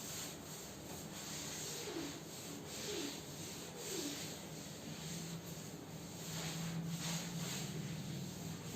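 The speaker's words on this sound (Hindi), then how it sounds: "मिटा देते हैं, ये वाला रब से हम लोग काम चला रहे हैं" A duster rubs across a classroom board to erase it. The rubbing is steady and continuous for several seconds, with soft scraping strokes that carry no speech.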